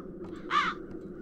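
A single harsh crow caw sounds in a dark fantasy game setting in The Dark Eye: Chains of Satinav, one short raspy call over a quiet low ambient bed.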